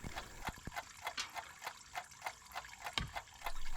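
Coolant dribbles out of a Chevy Silverado's cooling system in a quick run of irregular drips and splashes, each one distinct and close, before a denser trickle builds at the end.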